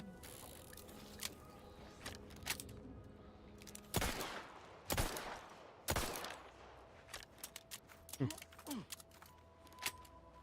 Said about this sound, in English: I know, shotgun him right now.